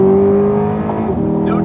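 Naturally aspirated engine of a 2021 Chevrolet Corvette Convertible Z51 held at full throttle, a loud sustained rev with a strong steady tone filling the short stretch, no voices over it.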